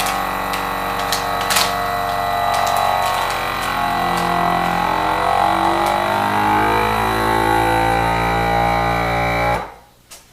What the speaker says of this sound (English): you will use the machine to vacuum out all of the excess air and then it will melt and seal the bag